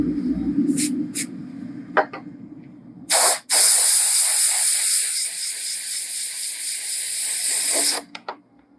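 Two short spritzes give way to a long, steady hiss as oil stain remover is sprayed onto an oil spot on clothing during wet cleaning, close and loud for about five seconds, then a few quick final bursts.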